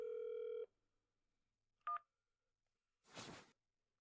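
A telephone call goes unanswered: a steady ringback tone cuts off, a short electronic beep follows, then a brief hiss, all quiet and isolated.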